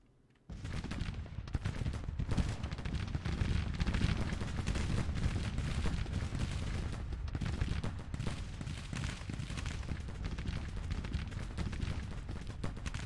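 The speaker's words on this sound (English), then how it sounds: "No, Pierce is getting artillery fire." Artillery fire in the Civil War strategy game Grand Tactician thunders as a dense, continuous crackle of cannon and musketry that starts abruptly and keeps up without pause, with no voices.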